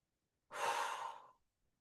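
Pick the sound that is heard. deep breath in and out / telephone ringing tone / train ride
deep breath in and out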